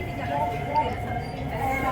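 Lahore Orange Line metro train running: a steady, close rumble of wheels on track with a low droning hum that holds throughout, with a faint voice under it.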